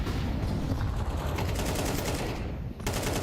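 AK rifle gunfire from a Counter-Strike 2 match on Inferno rattles in loud, dense bursts of rapid automatic shots, one sustained volley with no voices.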